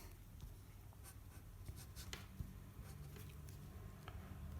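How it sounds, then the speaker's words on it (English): A pen drawing a cartoon character's fingers on paper: close, quiet scratchy strokes in short bursts, with soft taps between lines and no voices. "Now we're going to draw his fingers, which are basically the same as the arms."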